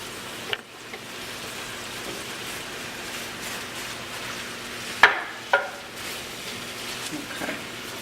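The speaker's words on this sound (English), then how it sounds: "we're going to let those apples cook about 10 minutes" Apples cooking in a pan with a cup each of white and packed brown sugar give off a steady soft sizzle and bubbling hiss, with a few brief clinks and stirring sounds.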